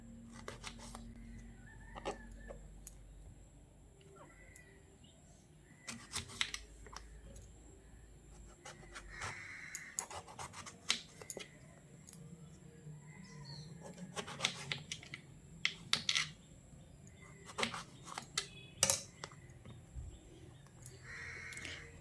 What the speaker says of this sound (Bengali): এভাবে মাঝ বরাবর প্রথমে কেটে তারপর একটু বড় বড় টুকরো করে বেগুনগুলোকে এইভাবে কেটে নিতে হবে